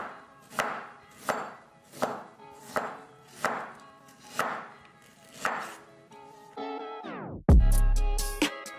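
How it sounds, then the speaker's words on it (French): A knife slices ginger into rounds on a cutting board, making about eight evenly spaced crisp chops at a steady rhythm. A louder clattering knock and a brief scraping sound follow at the end. "Donc le gingembre on va venir le couper en tranches."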